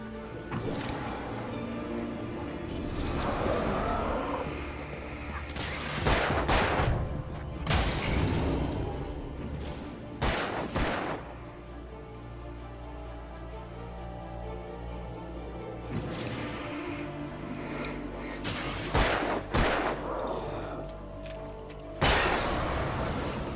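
A flare gun firing in Alan Wake: several loud, sharp bursts with whooshing, crackling tails, scattered among rumbling in-game noise.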